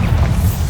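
A Bombarda blasting spell explosion in Hogwarts Legacy, a loud, dense booming burst with heavy low rumble lasting under a second.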